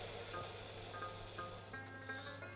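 Mukrabia, a small rice-like pasta, is added to hot oil with onion and sizzles quietly and steadily, with a soft frying hiss and no talking.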